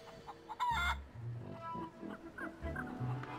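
A feral chicken from The Curse of Monkey Island clucking in short, choppy bursts, with a higher squawk early on and low murmuring game sounds beneath.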